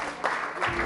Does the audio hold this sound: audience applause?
yes